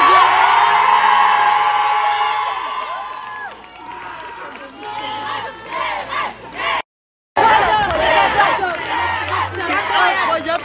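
A large crowd at an anti-bullfighting rally in Nîmes shouts, whoops and cheers loudly and continuously, with a brief break of silence partway through before the roar resumes.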